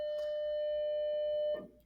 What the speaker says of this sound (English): Sorry, excuse the bell.